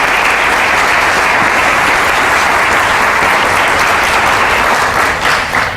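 Audience applause welcoming lecturer Charlotte Gray back for the third and final Joanne Goodman lecture, a dense, steady clapping from a full hall that stays loud throughout and tapers slightly at the end.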